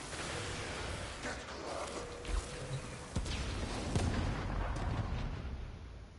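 Dense, continuous rumbling blasts and scattered pops of explosions in the video game Warframe, a steady wall of booming combat noise with a few sharper bursts standing out.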